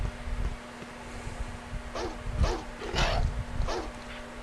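Several dogs barking in the survival horror video game Alone in the Dark, a cluster of sharp yelping barks at mid distance over a droning wind-like ambience and a steady low hum.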